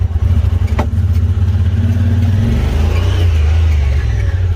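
A Honda Pioneer 1000 side-by-side engine stuttering and surging unevenly from a failing fuel pump, loud and close, its rough low drone wavering in pitch with a sharp clack early on.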